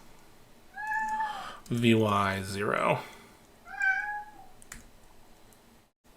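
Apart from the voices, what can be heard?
cat meowing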